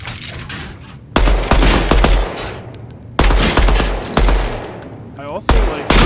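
Video game guns firing in a Midnight Society game, loud rapid bursts of automatic gunfire in long fusillades with brief pauses, close and dominant over faint background voices.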